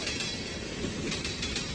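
A train rumbles and clatters steadily, wheels clicking faintly over the rails under a dense continuous roar, loud and close throughout with no voices.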